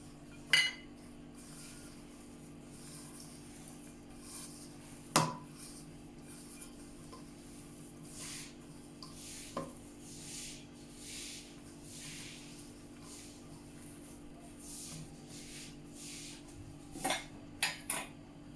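A spoon scrapes and clinks against a bowl while mashed potato is mixed with rice flour, giving soft intermittent stirring with a few sharper knocks over a steady low hum, close and quiet.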